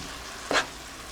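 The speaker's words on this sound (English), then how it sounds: "We just want to mix this up a little bit." Pasta and bok choy sizzle steadily in a hot pan, with a single brief stirring swish rising over the frying hiss midway, no voices.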